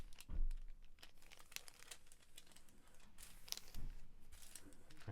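Paper material is folded by hand against a ruler during a craft make, producing soft close crinkling and crisp creasing rustles, with a few louder handling bumps.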